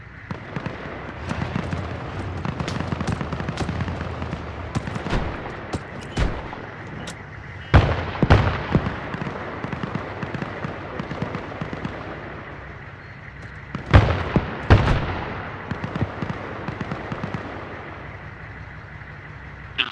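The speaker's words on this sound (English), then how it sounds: "Shots left side." Gunfire in the military video game Arma, with rapid bursts of sharp cracks and distant booming reports against a constant battlefield rumble, the heaviest volleys landing in a few dense clusters.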